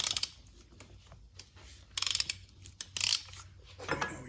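A ratchet wrench tightens the front wheel bearing bolt on a Chevy Cruze, giving repeated metallic clicking bursts in uneven spurts, close and fairly loud.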